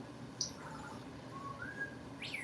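Short rising and falling whistles from a pet parrot, a few sharp chirp-like notes spread across a quiet room, fairly faint with soft background hiss.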